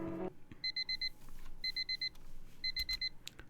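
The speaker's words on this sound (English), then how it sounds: "Yeah, I get it. Shut up already. Stupid alarm." Beeping from a video game alarm clock: three bursts of rapid electronic beeps, about five pips each, spaced roughly a second apart at moderate level over a faint background.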